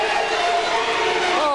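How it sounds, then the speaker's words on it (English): The crowd roars steadily through a high school boys' basketball game in a gym, a loud, dense wash of cheering with no break. "Oh, the crowd's into it."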